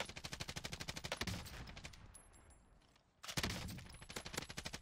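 Rapid automatic gunfire in the shooter Warzone, two fast bursts of evenly spaced shots separated by a quieter pause with a fading tail, sharp and close.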